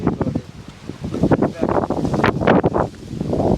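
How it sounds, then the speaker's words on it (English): A strong gust of wind on a blustery day while tramping in New Zealand, roaring and buffeting against the microphone in surges that build toward the end, with people talking through it. "It was a big gust of wind we got there"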